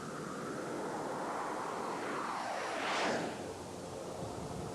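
A commercial jet aircraft flies past as a broad steady roar with a sweeping pitch shift, swelling toward the middle and easing off afterward.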